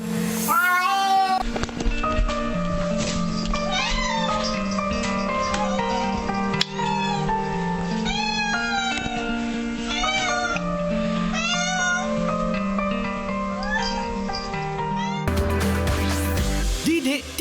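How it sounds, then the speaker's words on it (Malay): A cat, apparently trapped, meows in distress on a played recording: loud, insistent, repeated wails and cries over a sustained musical backing. "Kesian kucing tu macam tersepit ke ya"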